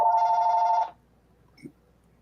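A landline telephone gives one loud electronic ring burst that stops abruptly, followed by quiet with a faint brief knock.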